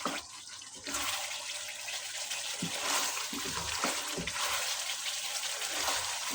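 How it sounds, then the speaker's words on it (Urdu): Chicken karahi frying in a wok once the yogurt's liquid has dried off, giving a steady, dense sizzle that stays loud and even throughout, with no talking. "اب اس کو ہم 2 سے 3 منٹ بھنائی کرتے ہیں۔"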